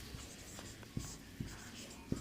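A pen scratching across paper in short strokes with small taps in between, close and faint.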